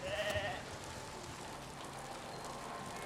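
A baby sheep on an underground sheep farm in the medieval village-building game Foundation gives a brief, wavering bleat at the start, then a steady hiss of rain carries on.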